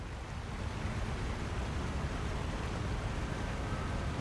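Steady, dense rushing water pours continuously at the base of a waterfall in a video game, a loud, even roar with no breaks and no voices.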